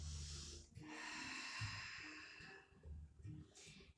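Breathing during a Pilates exercise session, with audible breaths and snort-like exhales close to the microphone and a softer breath toward the end.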